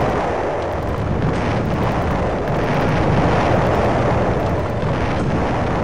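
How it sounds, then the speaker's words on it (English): Explosions from a thermonuclear war in the hacking game Uplink, a continuous loud roaring rumble with faint repeated pops, steady throughout with no talking. "Everyone explodes."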